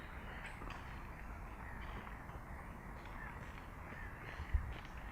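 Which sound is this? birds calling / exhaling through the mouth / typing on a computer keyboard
birds calling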